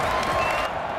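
A loud stadium crowd at an RFL football game between the Oklahoma City Lancers and Mexico City Diablos roars and applauds in a dense, steady wash of noise that fills the whole moment.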